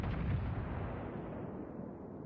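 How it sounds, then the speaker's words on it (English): Warship guns in World of Warships Legends let off a heavy boom that rolls away into a long, fading rumble, distant-sounding and alone with no voices. "Concentrate fire on the enemy warship."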